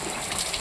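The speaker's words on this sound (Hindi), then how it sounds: "आप कितनी तेज बारिश हो रही है" Heavy rain pouring down in a village after a hailstorm the day before, a steady dense hiss of rainfall close by with no pauses and no talk.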